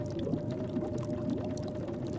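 Water is collected in The Long Dark on PC, a steady pouring and gurgling with a faint tonal hum running under it, continuous and fairly close.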